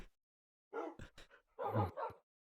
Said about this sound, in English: We have his dogs over here too.